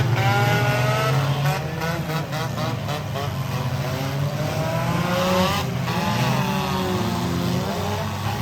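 Race cars in a figure 8 race at Russellville, Missouri, roar loudly and continuously, engines revving and overlapping as several cars pass close by, with pile-ups in the corners.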